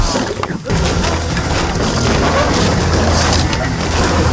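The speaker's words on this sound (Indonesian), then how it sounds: "Mereka mencoba memecahkan lampu untuk dijadikan pijakan naik ke atas." Lamp glass smashed in a film scene, a loud, dense crashing and splintering that fills the whole stretch after a brief dip near the start.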